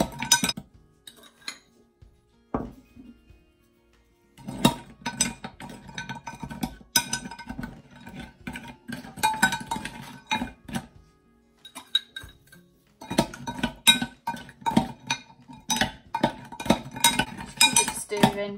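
A utensil stirs lye solution with ice cubes for goat milk soap, giving steady clinks and scrapes against the container that run in long busy stretches with a couple of brief pauses.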